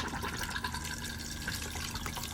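Water runs steadily into the bowl of a 2018 Rollerteam 694 motorhome toilet as it flushes, a continuous close gurgling rush with no voices.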